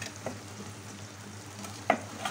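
String beans and shrimp frying in a pan give a quiet, steady sizzle, broken by a few distinct spoon scrapes and taps against the pan, close by with no talking.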